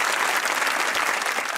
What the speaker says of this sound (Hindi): तालियां आपने बजा दी हैं